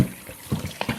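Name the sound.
pouring water into bowl of butter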